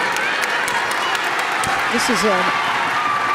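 Crowd noise from a packed arena during a women's college basketball game between Georgia Tech and NC State, a steady broad roar of applause and cheering with a commentator talking over it.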